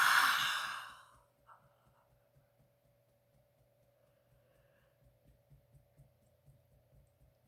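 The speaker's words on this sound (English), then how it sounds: "Big exhale out through your mouth." A single big breath is pushed out through the mouth, a loud close airy exhale that fades within about a second into near silence.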